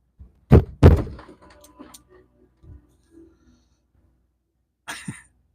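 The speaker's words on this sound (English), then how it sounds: "That's her thumping around, shooting across the house." A small child thumps and skids across wooden floors elsewhere in a house, producing a few dull, uneven knocks and bumps, two heavy ones close together, then softer scattered thuds and a final muffled bump after a quiet stretch.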